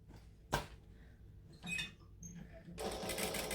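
Domestic sewing machine stitching through a bag's fabric layers with backstitching, a close steady whir that starts late after a few scattered knocks and handling sounds.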